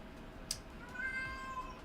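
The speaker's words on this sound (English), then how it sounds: "I just remembered one of my cats is in here." A house cat gives a single short, faint meow near the start, then a quiet drawn-out tonal cry trails off against a soft room hum, with no talking.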